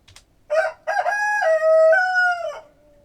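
A nearby rooster crows once in a loud, drawn-out call lasting a couple of seconds, heard alone against a quiet background.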